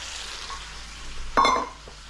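Scrambled eggs and tomato sizzling in a wok as cornstarch slurry goes in, a steady low fry hiss that swells into a brief louder sputter midway, then settles back.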